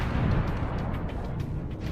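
A heavy, rumbling explosion from the Pokémon Uranium video game rolls on loudly and steadily for about two seconds, dominated by deep low-end roar without a distinct sharp crack.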